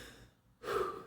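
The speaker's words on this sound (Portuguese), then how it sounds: "E aí ela vai e vem com mais uma respiração profunda." One deep breath: a soft exhale fades into a short quiet gap, then a fuller, louder inhale swells and holds, close and intimate, with no talk.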